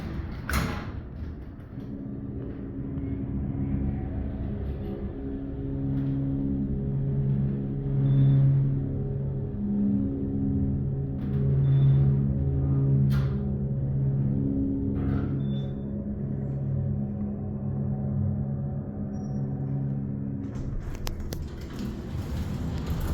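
Motor of a huge Schindler hydraulic garage elevator running, a steady low hum with pulsing overtones that swells and eases over time, with occasional soft clunks and clicks of the car.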